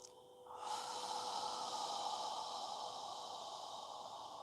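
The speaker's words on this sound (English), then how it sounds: "Filling your lungs completely with air and squeezing out all of the air on the exhale" A single long, deep breath during yoga breathing practice: a brief intake followed by a sustained airy exhale that fills the clip, close and steady with no talking.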